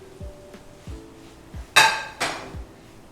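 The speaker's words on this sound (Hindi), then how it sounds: "इसमें मैं पनीर डाल लेता हूं।" Paneer goes into a masala sauce in a pan, heard as a handful of metallic clanks and taps of a utensil against the pan, with two sharper bright knocks standing out near the end and no talking.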